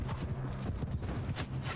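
A horse gallops in the medieval combat game Mount & Blade II: Bannerlord, its hooves making a rapid, continuous clip-clop that stays close and fairly loud for the whole stretch.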